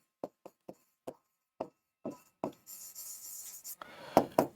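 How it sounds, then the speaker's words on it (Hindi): Marker or chalk strokes on a board, a run of short separate scratches that turn into longer continuous scrawling and rubbing, close and fairly faint, with no talk. "चलो दोबारा लिख देता हूं।"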